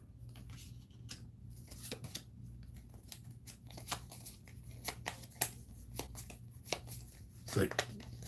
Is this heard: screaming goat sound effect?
no